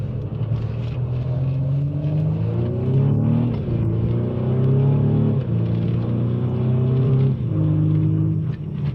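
A Mercedes W205 C-Class accelerates hard with paddle-shifted gear changes, the engine note climbing repeatedly and dropping sharply at each of several quick upshifts, loud and close from inside the car, with no talk.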